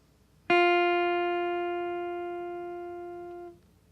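A single plucked guitar note on the thinnest string at the first fret rings out clearly with bright harmonics, sustaining for about three seconds and fading slowly before being damped.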